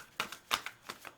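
Deck of tarot cards being shuffled, several quick, crisp riffling bursts in an uneven rhythm, close and fairly soft, with no voices.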